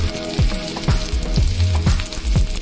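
Garlic cloves sizzle loudly in hot oil in a pan for a pumpkin vegetable dish, a steady crackling fry broken by sharp, regularly spaced scraping strokes as the pan is stirred.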